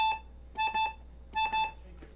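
A 72 bass accordion plays detached repeated A notes, fingered first with the pinky then the fourth finger, heard as two pairs of short, clipped tones over a low steady hum, fairly quiet.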